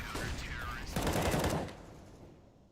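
Rapid bursts of video game gunfire crackle loudly for about a second and a half, then trail off into a fading echo, with faint talk underneath.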